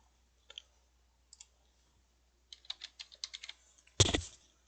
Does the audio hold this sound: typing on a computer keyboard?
yes